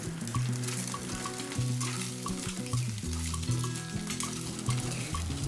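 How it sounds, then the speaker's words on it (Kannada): Boiled eggs frying with black pepper powder in a pan, a steady sizzle under repeated scraping strokes of a spoon stirring against the metal, close and alone without talk. "ಸೇರಿಸ್ಕೊಂಡ ತಕ್ಷಣ ಇದನ್ನು 2 ನಿಮಿಷದವರೆಗೂ ಫ್ರೈ ಮಾಡ್ಕೊಳ್ಬೇಕು."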